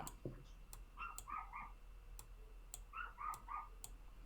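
A little Chihuahua yaps in short bursts from another room. Two groups of three or four quick barks come through faint and muffled, with light clicking in the background.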